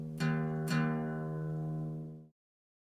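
Electric guitar with its low E string tuned a half step down to E flat, plucked twice in quick succession and left to ring with a steady, sustained low tone before being cut off; no talking.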